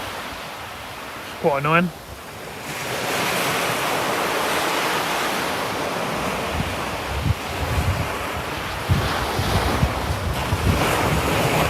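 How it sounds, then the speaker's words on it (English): Rough, freezing cold wind by the sea at Felixstowe's Mannings Rock Bays, roaring steadily and buffeting the microphone over crashing surf, loud and continuous, with a brief voice and a short whistle-like tone early on. "Getting really rough this wind now"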